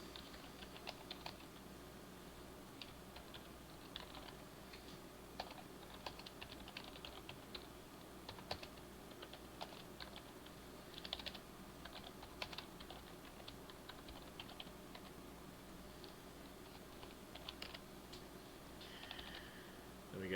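Steady, quiet typing on a computer keyboard while writing smart contract code, with irregular soft clicks and taps running throughout and no voice.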